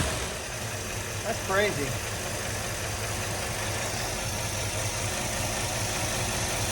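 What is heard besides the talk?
1957 Chevy engine starting and idling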